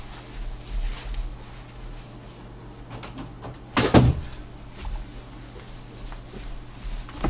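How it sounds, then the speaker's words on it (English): A room door is pushed shut with one close, solid thump midway, set against a steady low electrical hum and faint background shuffling. "I'm going to close that door."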